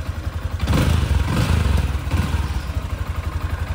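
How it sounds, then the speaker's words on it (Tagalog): A Yamaha Sniper motorcycle idling right after an oil change, its engine a close, loud, steady low pulsing chug with a slight rise partway through before settling back to an even idle. "Maganda rin yung tunog niya sa idle"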